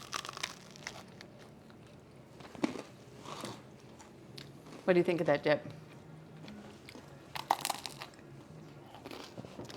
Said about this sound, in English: Listen to that crunch.